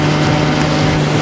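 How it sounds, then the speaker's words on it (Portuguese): A small motorized boat's engine drones steadily and loudly for just over a second, a continuous hum with wind and water noise around it. "Agora está em um bote motorizado."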